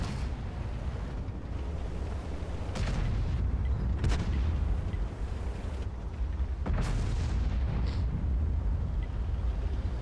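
A tank gun in World of Tanks fires in a few heavy booms spaced several seconds apart over a constant low rumble of battle and engine noise.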